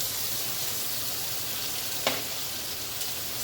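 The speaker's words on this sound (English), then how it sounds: "let me cook these mushrooms for a little bit" Sliced white mushrooms frying in butter in a pan, giving a steady close sizzle with a brief louder crackle partway through.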